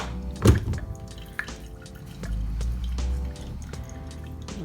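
Hot water poured from a kettle onto a bed of ground coffee in an Origami dripper, a steady close trickling stream that swells and holds, with a brief thunk near the start.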